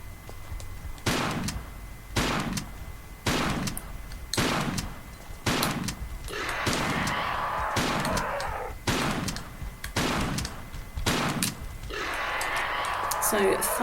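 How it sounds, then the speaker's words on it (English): About a dozen heavy shotgun blasts in the Tomb Raider level editor game fired at monsters, each a sharp booming report spaced roughly a second apart, with creature growls and grunts rising between some shots, and a voice talking in places. "So 5 shots each with the shotgun"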